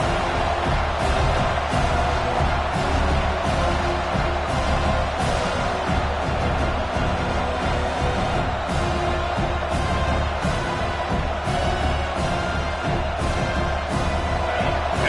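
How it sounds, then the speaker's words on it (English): Dense, continuous roar of a large football stadium crowd cheering and shouting during a defensive play in an Oregon at Notre Dame game, steady and loud throughout with no pauses. "This crowd coming to life here, trying to help the defense get a stop."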